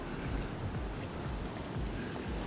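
Choppy sea and a steady breeze at the InterContinental Tahiti resort, a continuous close rush of wind buffeting the microphone over churning water, with no voices.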